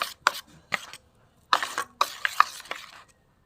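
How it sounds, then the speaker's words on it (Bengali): Rice flour batter for pitha is beaten in a bowl, giving bursts of rapid scraping and clinking strokes, close and fairly loud, separated by short pauses. "একটু ভালো করে আমি ফেটিয়ে নেব।"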